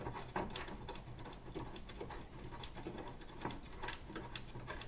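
A 3D printer at work gives off a steady, faint mechanical patter of rapid stepper-motor ticks and whirs, continuous and even throughout with no speech.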